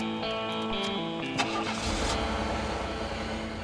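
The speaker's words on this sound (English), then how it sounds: "All right, time to turn on the car." A car engine cranks and catches around the midpoint, then settles into a steady running rumble, close and fairly loud, with no voices over it.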